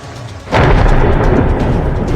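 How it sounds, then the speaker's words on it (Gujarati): A sudden loud crack of thunder breaks in and rolls on as a heavy rumble during a stormy downpour with gusting wind in rural Amreli. "કડાકા ભડાકા સાથે વરસાદના આ દ્રશ્યો છે"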